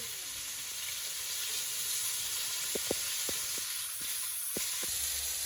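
Fish curry sizzles steadily in a pot on a clay stove, a continuous close hiss with a few faint stirring knocks.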